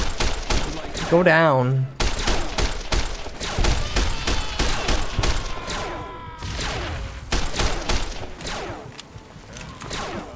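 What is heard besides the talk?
gunfire in a video game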